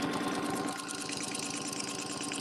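A sewing machine stitches a quilt in a steady, fast mechanical chatter with a continuous hum underneath, close and even throughout with no talking.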